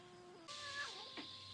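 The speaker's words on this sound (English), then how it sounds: "Another cat? Goddamn cats." A cat meows in a film scene, one drawn-out, wavering cry over a low steady hum, close and clear.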